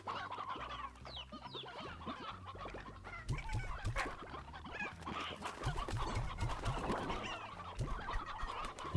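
Chickens in the game Slime Rancher cluck and chatter busily in a dense flock, a steady overlapping stream of soft bird calls and rustling with no speech.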